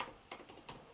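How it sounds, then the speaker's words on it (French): Three crisp keystrokes on a computer keyboard, close and fairly quiet, spaced unevenly with no voice over them. "On va taper tableau"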